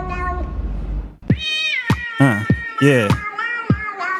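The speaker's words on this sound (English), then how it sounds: "You got to get a real cat to do the job." A cat meows repeatedly, about six rising and falling cries in a loose rhythm, close and clear, with a brief voice and low rumble before the first meow.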